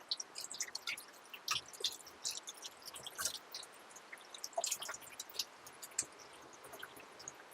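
Hands being washed with water, heard as a faint run of irregular splashes, drips and wet squishes coming in uneven bursts, with no voices.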